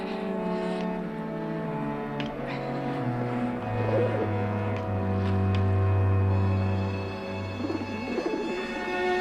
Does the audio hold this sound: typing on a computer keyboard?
no